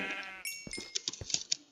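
A Minecraft sheep bleats in a wavering, buzzy call, followed by a series of sharp game sound effects and clicks with short gaps between them.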